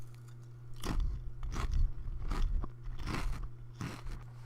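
Potato chips crunched between the teeth in five separate bursts of crisp, crackling bites, close and loud over a steady low hum, with no talking.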